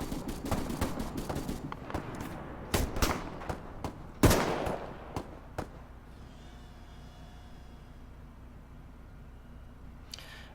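Squad gunfire in ARMA 3 on the Tanoa map: sharp rifle shots crack out in quick irregular bursts, a loud close blast stands out, then the firing thins into scattered distant reports over quiet ambience.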